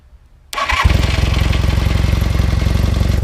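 A motorcycle with a corroded relay bypassed by a thick wire starts after a brief cranking burst, then settles into a loud, steady, close running idle with a rapid even pulse, no talking.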